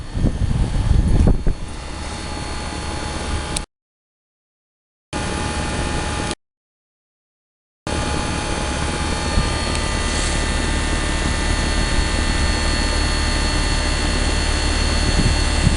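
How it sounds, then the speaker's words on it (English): An Arcoaire heat pump at a commercial property runs in heat mode with a steady, loud, broadband roar and fan hum close by. The sound cuts out twice in short gaps and then continues unchanged. "This is an Arcoaire heat pump at a commercial property."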